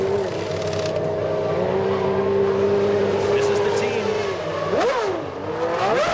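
Formula 1 cars at the 1992 Japanese Grand Prix at Suzuka screaming as they accelerate hard up through the gears, loud sustained engine whine with rising pitch and gear shifts, under a commentator's voice.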